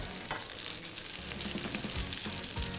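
Poultry turned over in a hot frying pan during a supermarket cooking class, a steady loud sizzle of frying with a few soft scraping stir sounds, no talking.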